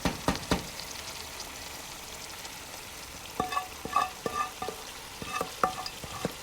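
A spoon spreads sauce over meat in a cooking pot for a Ghanaian okra stew, giving scattered close clinks and scrapes against a steady soft sizzle and bubbling.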